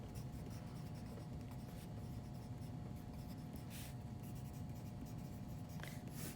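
A pen scratches across paper while a diagram is drawn by hand, a continuous close rasping scribble with a few sharper strokes.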